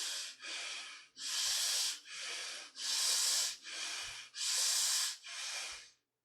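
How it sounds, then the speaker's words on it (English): Slow, deep belly breaths taken during a guided mindfulness meditation, about seven long airy inhales and exhales in steady alternation, close and clear with no talking. "It's a longer breath"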